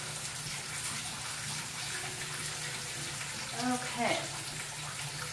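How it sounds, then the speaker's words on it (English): Tap water runs steadily into a kitchen sink during hand washing, a continuous broadband wash with a brief splashier swell near the end, and a voice speaks briefly over it. "let me wash my hands"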